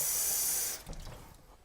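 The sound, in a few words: water poured into a glass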